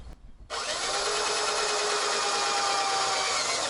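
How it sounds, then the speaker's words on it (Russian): A power tool drives screws to fasten slate sheets on a fence, starting after a short pause and then holding a loud, steady, high whirring grind right up close, with no voices. "И начинаю крепить шиферные листы"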